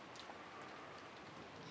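Heavy downpouring rain from the video game Umineko When They Cry, a soft continuous wash of falling water with scattered drop patter, steady and faint throughout with no voices.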